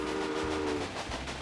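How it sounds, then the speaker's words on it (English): A train pulls into a station in the railway management game Railway Empire, a rumbling rolling hum with a brief whistle tone at the start, steady and moderately loud, with no voices. "Just because the train's coming in"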